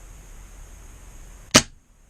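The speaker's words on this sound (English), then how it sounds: "So if we just fire off, I mean, I've got no BBs in this at all, but just to show you the way that, you know, the sound and the way the bolt operates when it fires" An SSQ22 airsoft gun is dry-fired with no BBs, giving one sharp, close mechanical snap of the bolt cycling after a quiet hiss, then silence.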